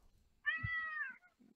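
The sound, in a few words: cat meowing, a cat sound sample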